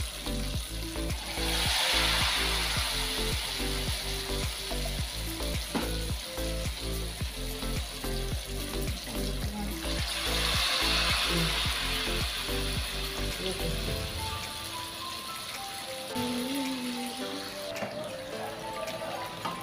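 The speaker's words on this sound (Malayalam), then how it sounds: "നമ്മളെ പഴംപൊരി ഇതപ്പോൾ ഇവിടെ പൊരിച്ചു വെച്ചിട്ടുണ്ട് കേട്ടോ" Banana fritters dipped in batter deep frying in hot oil give off a continuous bubbling sizzle, swelling and easing, with faint rhythmic tapping in the background before the sound thins toward the end.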